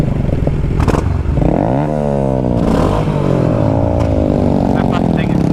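A loud motorcycle engine revs and runs close by, rising and falling in pitch as it accelerates, with clattering and scraping under it and a voice talking over the roar.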